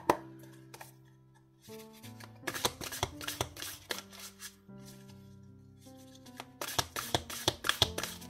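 Tarot cards are shuffled by hand in crisp, riffling bursts and light taps, close and clear over soft sustained background music, with no talking.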